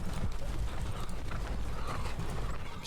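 Cavalry horses of a small force of about 300 moving in a Napoleonic-era wargame at the Battle of Kaiserslautern, a dense steady rumble of clip-clopping hooves with faint mechanical clicks, continuous and moderately loud with no talk.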